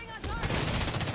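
Rapid automatic gunfire in the video game Tom Clancy's The Division 2, a dense burst of repeated shots ringing out loudly after a brief voice.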